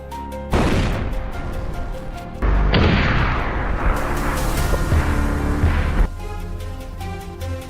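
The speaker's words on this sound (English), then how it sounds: "the sound of gunshots rang out sharply, decisively taking down the lone boar" Hunters' gunfire at wild boar on a farm mountainside, several loud booming shots that crash and ring out, near and forceful, with a heavy sustained blast in the middle before the sound drops away.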